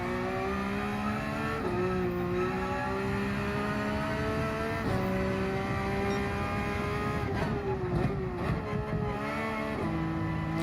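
A Porsche 992 GT3 R race car engine roars in Gran Turismo 7, held loud and close with rising revs broken by several quick gear shifts and dips in pitch over the run.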